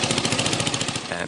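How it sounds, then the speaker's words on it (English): A lawnmower engine running on water-derived fuel chugs in a fast, steady, rattling rhythm, loud and close for a brief moment. "They're already running a lawnmower on nothing but the precious drop."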